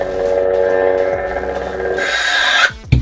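A KR Sabers Hati and Skoll lightsaber hilt gives off a loud, steady droning hum that swells into a brighter blare near the two-second mark, then cuts off sharply, with one short final burst.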